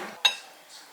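A single light clink of cutlery against a dish sounds while a soft-boiled egg is cut, one brief close tap amid near silence.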